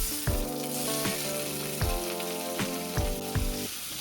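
Thin-sliced potatoes fry in mustard oil in a pan, a loud, steady close-up sizzle with crackling spatter throughout and several soft knocks as they are stirred.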